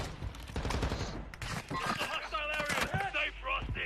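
Video-game gunfire crackles as shots hit a house, with a burst of sharp, rapid reports at the start, then louder talk over fainter shooting.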